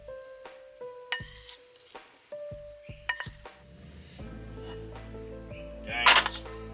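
Egg mixture hits a hot pan with a soft sizzle amid clinks and scrapes of a utensil against cookware, building to a brief louder hiss near the end, close and without talk.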